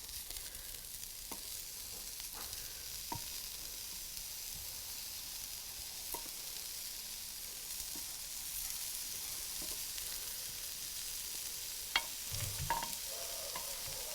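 Tempeh fries in a pan with a steady, soft hiss, broken by occasional scrapes and taps of a utensil as it is stirred and flipped, close but quiet.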